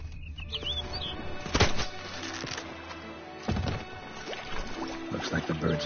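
A bird takes flight in the video game The Witcher 3: Blood and Wine, with brief bursts of flapping wings heard up close against a background of soft ambient sound and faint chirps.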